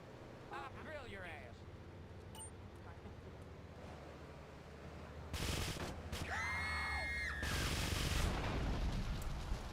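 Bursts of rapid gunfire from GTA Trilogy Definitive Edition, loud volleys in the second half layered with game effects and a steady background rumble.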